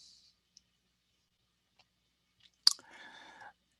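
A single sharp computer mouse click lands crisply in near silence, followed by a brief soft rustling tail.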